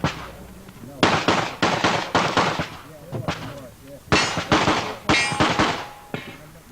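Pistol shots fired rapidly by a competitor on a stage at a 1988 USPSA practical shooting national championship, loud close cracks in quick clusters with brief pauses between strings of fire.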